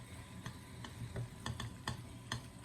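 A utensil stirs chocolate melting in a double boiler, making soft, evenly spaced clicks and scrapes against the bowl roughly every half second over a faint steady hum.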